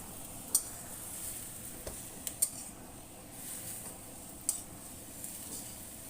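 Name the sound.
stirring cabbage with anchovies in a wok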